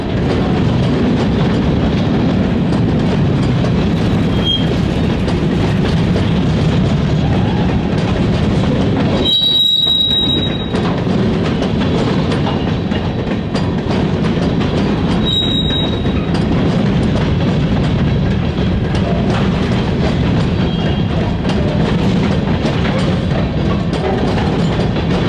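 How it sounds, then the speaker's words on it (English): Three locomotives haul a heavy mining train up a 517-foot grade toward Willet Hollow Tunnel in Tennessee, a loud continuous rumble and clatter of rolling cars with brief high wheel squeals. "The 3 locomotives would be working hard as they climbed 517 feet of elevation to the Willet Hollow Tunnel"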